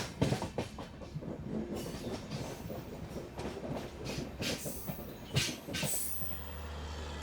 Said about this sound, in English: Here we are pulling into the platform loop of Mulki station.